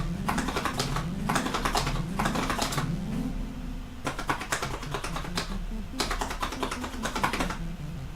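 Cardboard Nintendo Labo piano keyboard pressed in quick bursts of clattery key taps, with a steady low synth-like drone and tones underneath, played close and fairly loud with no talking.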